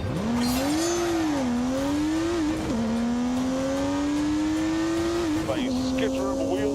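A race car driven by Mike Skinner launches with a skitter of wheel spin, its engine revving hard and climbing through gears with brief tire chirps, loud and close, with a commentator talking over it.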